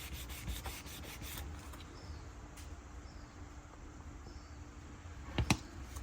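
A rubbing buff scrubs against a 3D printed Star Wars-style heavy revolver blaster, giving a soft, uneven rasping friction with a few quick scuffs early on and a sharper knock near the end.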